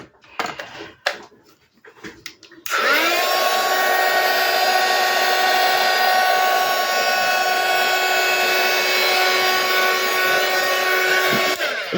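A hair dryer drying paint starts abruptly after a few quiet knocks and taps, then blows loud and steady with a constant whine until the end.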